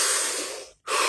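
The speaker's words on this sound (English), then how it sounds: "Deep breath." A deep breath during a guided body-scan relaxation session: a long, loud, breathy inhale, a brief silent pause, then the start of the exhale.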